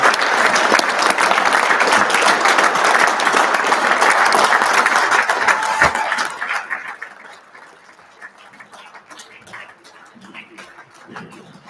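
A graduation audience applauds loudly and steadily for about six seconds, then the clapping fades to a few scattered claps and low crowd murmur.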